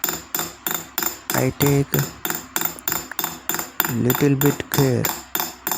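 A metal punch is struck by a hammer in rapid, regular taps, pushing metal over the stones of a jewelry stone setting. The close, sharp strikes sound under a man's speech.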